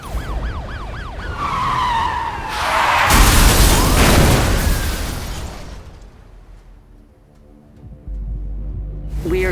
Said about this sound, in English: the racer known as Zephyr has just been involved in a horrific high-speed collision with local police units